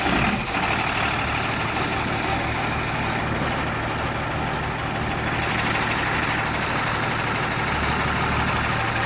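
A Tata 3718 Signa BS4 truck running after clutch repair, a steady loud diesel idle with constant low rumble throughout and a slight shift in tone midway.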